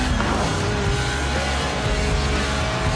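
A Lotus Elise, a mid-engined, rear-wheel-drive 90s roadster, drifts completely sideways in Forza Horizon 4, its engine roaring loud and steady with tire squeal throughout.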